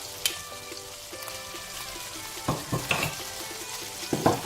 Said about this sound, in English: Ooh, I love to hear that noise when things start to cook.